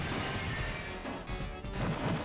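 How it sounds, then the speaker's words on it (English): Glass smashing in the arcade beat-'em-up Final Fight, a loud crashing burst over busy game noise and music, with further impacts following through the short stretch. "Okay, break the glass."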